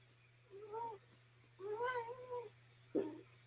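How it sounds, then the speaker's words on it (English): A cat named Munch, one of two on a desk, lets out a few plaintive meows at close range, including two drawn-out calls and a short final chirp, over a low steady hum. "I have 2 cats on my desk"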